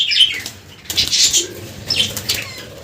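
Bird wings flapping hard in short, loud bursts as it is pushed into a cage, with faint chirps in between.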